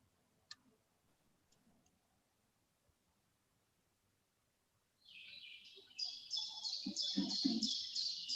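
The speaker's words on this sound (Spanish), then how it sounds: "los pájaros del monte nos dan sus melodías" Countryside birds sing from about halfway through, bright repeated chirps and trills that grow steady and fairly close, after a long near-silent stretch broken only by a few faint ticks.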